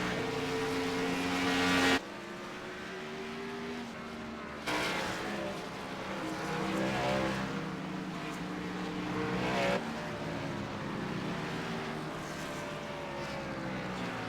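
Xfinity Series race cars at Watkins Glen: a loud engine drone with pitch that rises and falls as cars pass, cut by abrupt shifts in level, sustained for the whole stretch with no speech over it.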